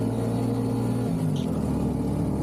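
A fully loaded tricycle's engine labours steadily up a curving uphill road, a continuous close drone whose pitch dips and shifts partway through, with no voices.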